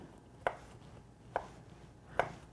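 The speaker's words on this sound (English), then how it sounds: "chop these up into nice small pieces" A knife chops asparagus into small pieces on a cutting board: three crisp, evenly spaced cuts, quiet and close, with no talking.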